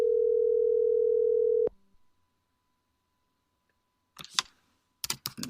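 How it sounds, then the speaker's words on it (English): A phone dials out to a cell phone: a steady, loud tone holds for nearly two seconds and then cuts off. After a quiet pause, a few short clicky taps follow. "Okay, it should be dialing here."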